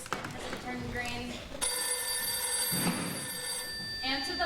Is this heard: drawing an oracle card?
no